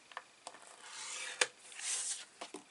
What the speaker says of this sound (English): I'm going to use my guillotine if I need to score.